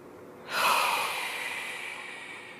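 A pregnant woman in her third trimester draws a slow, airy breath during a Pilates exercise. A soft rush of breath swells in suddenly and then fades gently, close to the microphone and with no talking.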